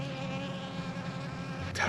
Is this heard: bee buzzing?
yes